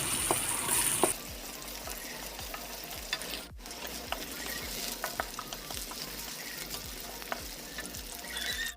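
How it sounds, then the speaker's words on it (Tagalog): Yellowfin fish frying in a pan on a home stove, a steady close sizzle and crackle running throughout with occasional sharper pops and spatters. "Yan atong giprito nga isda na yellowfin ni."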